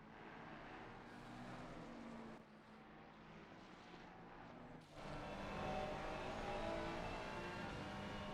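Race car engines from a sim-racing endurance event at Suzuka, Mustang among them, drone steadily through the S-curves, growing louder and fuller midway as cars pass close, with no talk over them.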